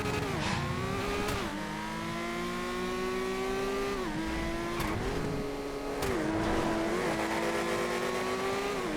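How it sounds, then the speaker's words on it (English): CR727 open-wheel race car racing in GTA FiveM, a high, loud engine whine held close throughout, with several sharp dips and rises as it shifts gears and backs off for corners. "here's the open wheeler, the CR727"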